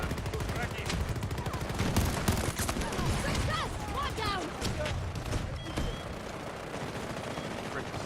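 Continuous chaotic battlefield gunfire in the video game Battlefield 2042, dense overlapping shots and bursts throughout, with a player talking over the din.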